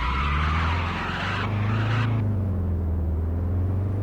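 A BMW in a driving video game skids with a sustained tire squeal over a low steady engine rumble, close and continuous, the screech dropping away partway through while the engine hum carries on alone.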